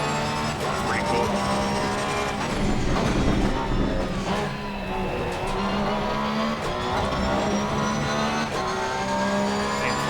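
Race cars in Assetto Corsa Competizione at Oulton Park pass by with loud, continuous engine roar that rises and falls, alongside the steady drone of the player's own car.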